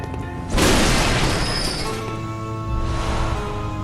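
A turret firing in the video game Bloodborne, heard as one loud booming blast that rings on, followed by a second, softer burst against a steady backdrop of game sound.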